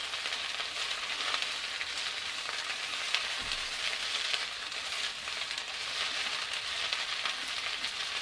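Yam shoots sizzling steadily in a hot pan, a continuous, even hiss of frying that holds at a moderate level throughout, close up with no voices.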